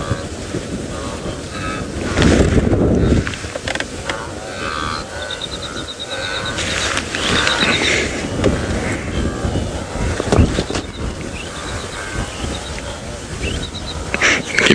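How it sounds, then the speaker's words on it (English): A yellow-throated longclaw calls from the African bush during a late-afternoon safari drive, its repeated thin whistles faint and a little distant beneath steady wind buffeting and the rumble of the open vehicle. "You can hear a yellow-throated longclaw calling away."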